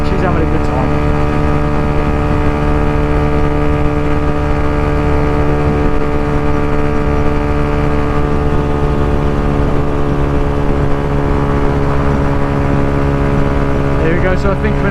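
A Yamaha YZF-R125 125cc motorcycle cruises at about 70 mph along the M6 Toll motorway, its engine holding a steady, loud, unbroken drone with rushing wind noise throughout.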